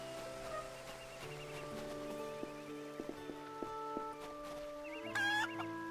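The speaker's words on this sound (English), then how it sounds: "Oh, you can talk to the chicken." Chicken clucking in the video game Eternal Sonata, short soft clucks set over sustained game music with a brief brighter squawk near the end, faint and mixed in rather than alone.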